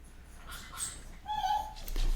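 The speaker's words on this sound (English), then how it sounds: "I got to get rid of these dogs. They're driving me nuts." Dogs whimper and yip faintly in the background, thin whines rising and falling over a quiet room with low rumble, no barking clearly standing out.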